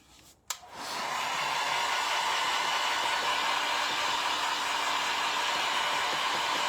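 A hair-dryer-style heat tool switches on with a click and runs steadily at close range, drying painted shabby chic mould pieces with a constant, even whirring roar.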